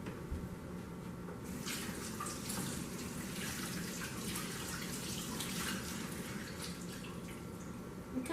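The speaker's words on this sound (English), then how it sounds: "I'm going to rinse them off in the sink" Kitchen tap water runs steadily into a sink as leftover seeds are rinsed off, a constant hiss and splash that grows brighter partway through, fairly quiet and unbroken.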